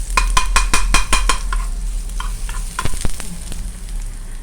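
Garlic sizzles and fries loudly in hot oil in a pan while being stirred for an omena stew with egusi seed, with sharp clicks and scrapes of a utensil against the pot over a steady crackle.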